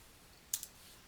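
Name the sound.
Enter key pressed on a computer keyboard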